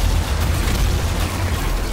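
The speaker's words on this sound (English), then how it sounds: "Boom. Goes the arachnotron." An arachnotron blows up in a Doom campaign game, a loud, dense burst of explosive rumble with heavy low-end boom that fills the whole moment.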